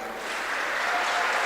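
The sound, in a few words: cheering and applause from Emirates National School students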